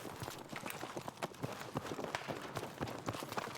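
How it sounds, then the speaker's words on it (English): Enemy footsteps in a video game: a rapid, steady patter of quick steps, like someone running, fairly close, mixed with dense gameplay noise and no talk. "I swear that sounds like enemy footsteps."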